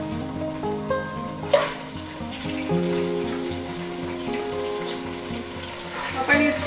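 Mutton pieces sizzle in heated oil for Nepali-style pakku. A crackling hiss runs under a low background hum, with a couple of sharper pops and spatters.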